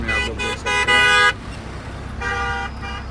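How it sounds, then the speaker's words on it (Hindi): Car horns blare in a congested traffic jam at Digdol, several long honks overlapping in bursts with a short gap, close and loud over the rumble of idling vehicles. "हम पहुँच गए डिगडोल और यहाँ पे जाम बहुत ज़्यादा है"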